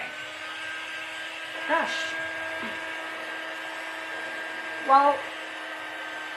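A handheld hair dryer blows on freshly painted pixie brushes, giving a steady, even whirr that runs the whole time beneath a person's occasional speech and small bumps.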